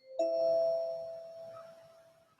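The Mac reminder chime called chime and bamboo sounds once, a soft bell-like ding that rings out and gradually decays, heard alone in a quiet room.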